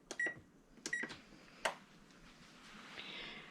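Oven control panel set to 425 degrees beeping, two short bright beeps in quick succession, then a third chirp with a click, in a quiet kitchen.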